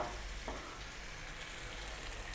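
Eggs frying in a pan for avocado shakshouka, giving a steady, close, even sizzle with light crackle throughout and no talking.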